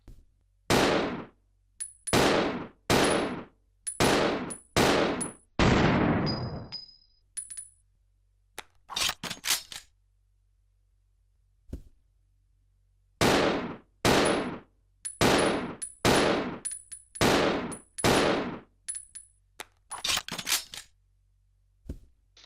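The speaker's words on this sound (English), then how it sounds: "He fires the handgun a tad bit faster than Rebecca does" Handgun fired by Billy in Resident Evil Zero HD Remaster: sharp, loud single shots in quick rhythmic bursts, with a pause midway followed by a second steady volley, each crack trailing a brief metallic ring.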